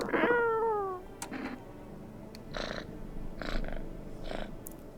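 Cat in a video game gives a clear rising-falling meow, followed by soft purring and a few brief rustling bursts, close and fairly quiet.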